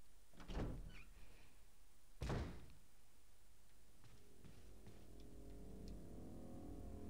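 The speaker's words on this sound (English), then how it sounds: "That fucker's been banging on the door." Two heavy thuds of someone banging on a door in Resident Evil HD Remaster, each a loud single bang about two seconds apart, followed by a low rumbling ambient hum.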